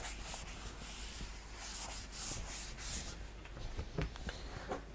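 A board being wiped clean during a lecture, a steady, faint rubbing and brushing with soft swishes and no speech.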